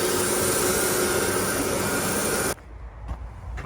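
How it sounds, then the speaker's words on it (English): A vacuum cleaner hoovers underneath an old boiler with a loud, steady roaring whine, then cuts off abruptly, leaving faint room noise and a few small knocks. "we're just hoovering out underneath it now"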